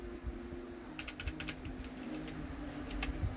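Keys clatter on a computer keyboard during drafting software work, a short run of crisp, close clicks in quick bursts with a faint steady hum underneath and no talking.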